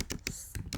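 Quick, soft clicking of keys on a computer keyboard, with several close taps in an uneven rhythm during a short burst of typing.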